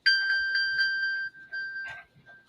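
A mobile phone belonging to a man's wife rings out with a sustained, bright electronic chime that holds for over a second, breaks briefly, then sounds again, fairly close and clear with no talk over it.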